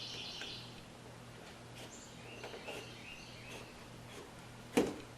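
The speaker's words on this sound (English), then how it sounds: "And the birds are chirping outside." Birds chirp faintly outdoors, a few distant tweets over a steady low hum near a restoration job, ending with one brief sharp knock.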